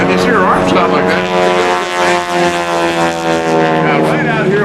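Aerobatic propeller airplane flown by Gene Soucy at the 2004 NAS Oceana airshow, its engine drone loud and steady with a rich harmonic whine, a commentator's voice running over it throughout.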